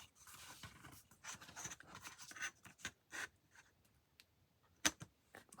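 Paper torn along its top edge on a craft work surface, heard as scattered close scratchy rips and rustles of varying loudness, including one sharp louder tear near the end, no talking.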